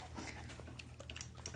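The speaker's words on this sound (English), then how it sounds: "Oh, I had a puppy at my foot." A puppy pants softly at someone's foot, making quick faint breaths with a small whimpering sound near the end. The sound is quiet and close.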